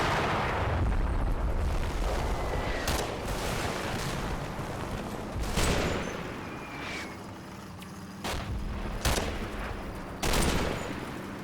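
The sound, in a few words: gunfire from infantry in video game Combat Mission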